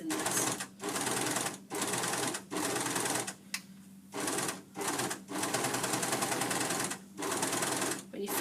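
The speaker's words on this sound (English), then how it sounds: "Remember, no pins in the overlocker and you don't need to reverse." An overlocker runs in repeated bursts as it sews along a fabric edge, a steady mechanical whir broken by short pauses, loud and close.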